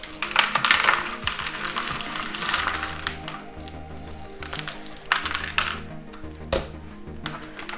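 An Oncidium orchid and its potting media are pulled out of a pot, giving rustling, scraping and crackling noises in uneven bursts close by, with a few sharp knocks.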